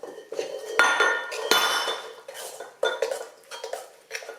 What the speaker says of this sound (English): Adding my egg, butter. Just going to mix that in with this flour.